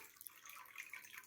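Water from a pump hose trickles and splashes softly into a stream bed lined with waterproofing membrane, a faint, steady babble with small drips.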